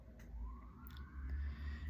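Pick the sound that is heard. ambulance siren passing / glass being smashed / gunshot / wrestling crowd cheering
ambulance siren passing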